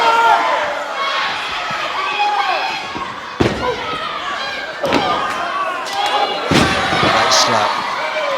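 Pro wrestlers Nagasaki and Regal in a UK ring, bodies slamming onto the canvas in several sharp thuds spread across the span, heard under a commentator's voice and a murmuring crowd.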